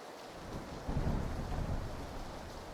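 Rain hisses steadily through a PlayerUnknown's Battlegrounds thunderstorm as a low roll of thunder builds and lingers, soft and far off, with no talking.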